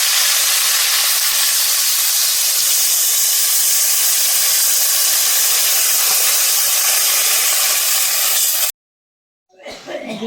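Water poured into a hot pan of chicken curry sets off a loud, steady steaming hiss that runs unbroken for several seconds, then cuts off abruptly.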